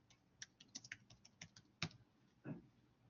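A computer keyboard being typed on at close range gives a quiet, irregular run of light key clicks with a few sharper taps and a heavier thump near the end, with no talking.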